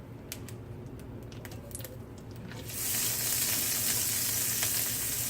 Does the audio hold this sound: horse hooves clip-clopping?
no